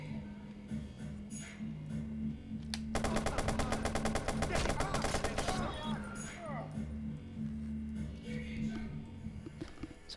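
Rapid machine-gun bursts and gunshots in the video game Watch Dogs during a gang shootout, a dense volley in the middle under a steady low musical drone, with talk around it.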